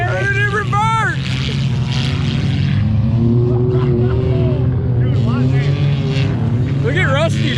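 A car stuck during a cornfield race revs hard and continuously, a loud droning engine roar with rising whines, while several people shout and talk excitedly over it close by.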